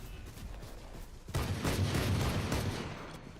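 Rapid bursts of rifle fire in the tactical shooter Valorant during an esports match, a dense fusillade of overlapping shots that swells suddenly and continues loud and crackling for a couple of seconds.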